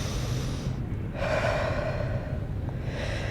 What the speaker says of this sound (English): Breathe with intention.